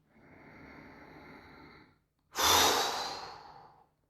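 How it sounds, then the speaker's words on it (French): During a bio-energetic breathing meditation, a steady soft breath, a brief silence, then a loud, deep airy breath that starts sharply and fades over about a second and a half, close and with no talk. "Donc on inspire."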